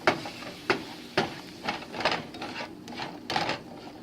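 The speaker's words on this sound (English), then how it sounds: "So I'm going to add some of the broth, which gives it some moisture to cook into." Quinoa simmering in a pan with added broth as it is stirred, soft bubbling sizzle under a series of scraping spoon strokes, about eight uneven knocks and scrapes close by.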